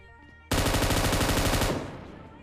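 Gunfire in PUBG Mobile breaks out suddenly as a loud, rapid automatic burst lasting about a second. It is followed by a fading echoing tail, with no talk over it.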